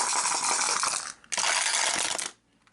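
Several dice rattle and clatter across a surface during an Arkham Horror board game check, a dense burst of rolling and tumbling close by, a short pause, then a second longer rattle before settling into quiet.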